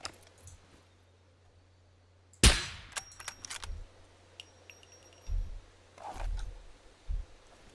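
A single sharp gunshot from a firearm in the survival video game SCUM cracks loudly, followed by mechanical clicks and clatter of handling the weapon, then a few softer thuds, with no talking.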